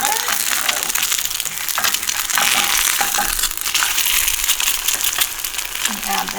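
Egg frying in a sprayed pan, a steady crackling sizzle with sharp pops and crunchy bursts, close and loud throughout.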